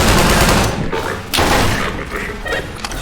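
Canister barrage gunfire in the video game Entropy: Zero 2, a loud, dense burst of overlapping blasts and thuds with a couple of sharp impacts, close and continuous.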